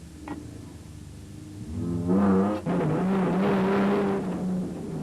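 Rally cars in the 2005 Toyota 1000 race past at speed, their engines swelling from a quiet approach into a loud, close droning roar before fading slightly as they move on.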